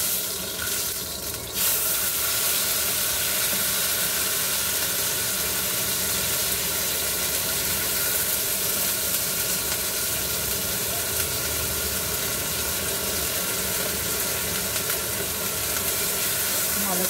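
Fish paste hits hot oil with black cumin seeds in a wok, setting off a loud, steady sizzling hiss that runs continuously throughout.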